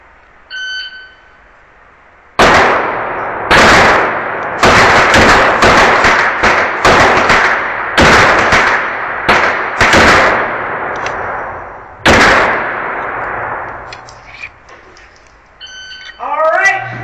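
Glock pistol shots at an indoor shooting match, about ten sharp, loud reports fired in an uneven cadence with echoing reverberation, bracketed by brief beeping timer tones at the start and end.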